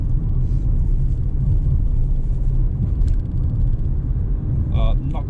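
Steady low rumble of a car driving along a fairly bumpy road, heard from inside the cabin as a continuous engine and road drone throughout, with a brief brighter noise near the end.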